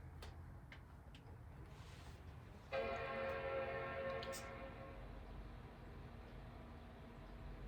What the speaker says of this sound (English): Nice solid chime.